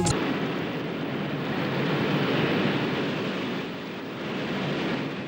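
Ocean waves roll in a continuous broad roar of surf, loud and close, with gentle swells in intensity and no voices.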